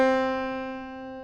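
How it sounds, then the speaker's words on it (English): A lone C note on a piano, already ringing, sustains and fades gradually, clean and near with nothing else heard. "So if I play a C on my piano for my 3rd string,"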